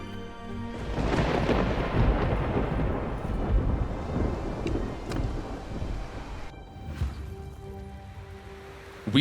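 A thunderstorm rolls over the open sea in War Sails. A long heavy rumble of thunder blends with rain and wind, then fades into a quieter wash of storm noise with a faint tone underneath.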